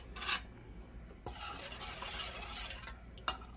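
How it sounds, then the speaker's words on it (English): Jello mix being stirred into boiling water in a bowl, a short scrape and then a steady swishing stir for a couple of seconds, ending with a brief clink. "I'm going to stir it up until it's dissolved."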